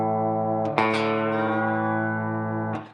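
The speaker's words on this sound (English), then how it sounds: "I bent the D string in up a whole step behind the nut" A sustained, distorted electric guitar note rings out with harmonics while the D string is bent up a whole step behind the nut, followed by a brief pick attack near the end.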